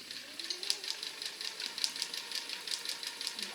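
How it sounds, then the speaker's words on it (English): Sewing machine stitching fabric for a zippered pouch, a fast steady ticking rattle of the needle running evenly throughout at close range. "start sewing as straight as I can"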